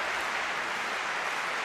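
Dense, continuous roar from a full crowd at Stade de France during Paralympic athletics finals, a broad wash of cheering that holds steady without pause.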